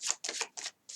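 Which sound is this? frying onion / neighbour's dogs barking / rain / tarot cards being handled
tarot cards being handled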